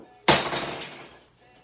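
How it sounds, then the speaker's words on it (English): An antique Japanese ceramic money cat shatters on impact with one sharp crash, followed by a second of tinkling, scattering fragments that fade out quickly, close by and alone. "what Finn just smashed into a million pieces was my Japanese money cat"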